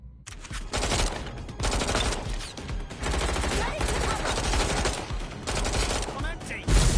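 Rapid bursts of automatic gunfire in the video game Watch Dogs: Legion, loud close fusillades repeating in clusters over several seconds, with a voice shouting among them.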